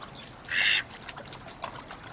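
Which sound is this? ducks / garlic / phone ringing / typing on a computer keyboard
ducks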